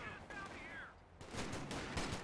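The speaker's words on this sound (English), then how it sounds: "major artillery." Artillery barrage in the real-time strategy game Company of Heroes 2, a burst of booming blasts and crackling impacts that swells in the second half beneath a brief whistling tone.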